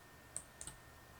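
Two or three quiet, crisp computer mouse clicks, a single click followed by a quick pair, faint against a near-silent room while opening the Zoom app.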